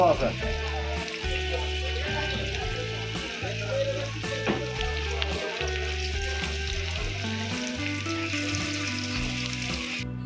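Tikki sizzles steadily in hot oil in a kadai wok at a chotpoti stall in Bogura, a continuous loud frying hiss with occasional stirring and clatter, while people talk nearby.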